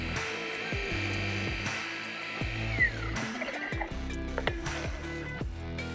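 A RUPES polisher whirs steadily as it primes polishing pads with compound on paint, held in one spot, a continuous close motor drone with a high whine sweeping down midway and shifting pitch toward the end.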